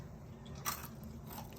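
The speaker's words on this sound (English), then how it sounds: "A lovely crunch" Someone bites into crunchy fried spicy chickpeas with lime juice and chilies, a single close, sharp crunch followed by quieter chewing.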